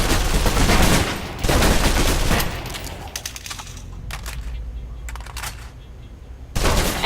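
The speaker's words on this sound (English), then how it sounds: "Still using cover, take some shots at the target" Gunfire in the Alpha Protocol video game, fired blind from behind cover: bursts of rapid automatic shots, loud and close, with short gaps and scattered single cracks between volleys.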